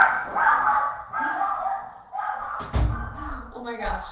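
Dogs bark in short yips and bow-wows mixed under steady talking by a woman nearby, with a brief thud partway through; the barks are moderate and partly masked by the speech.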